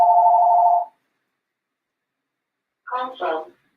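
A telephone rings during a conference talk on stars: a steady electronic ring tone sounds loud and close for about a second, then after a pause a brief burst of speech follows.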